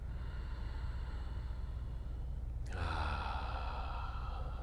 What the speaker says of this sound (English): Nice full breath in. And exhale.